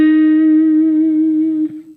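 Sustained electric guitar note from a pre-bent high E string, ringing steadily and clearly for well over a second before being released and cut short, played alone with no talking.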